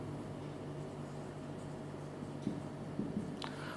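Chalk or marker scratching on a board during a lesson on the geographic and magnetic axes of Earth's magnetic field, a few short strokes in a steady hum of room noise.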